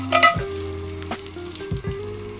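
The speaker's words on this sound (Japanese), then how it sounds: "まずバターを溶かしていきましょ" Butter melting in a pan to start a roux gives a close, crackling sizzle that rises and falls, with a few short bursts of louder spitting and no voices.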